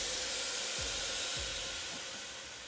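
An air ride dump valve on a Harley Street Glide releases air in a loud, continuous hiss that slowly fades, with a few low thumps as the bike settles.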